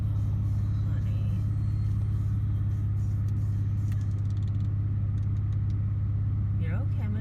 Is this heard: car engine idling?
yes